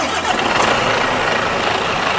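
An IVECO S-Way truck's diesel engine is started remotely from below the cab, a loud, steady broadband engine rumble filling the whole stretch, no talk.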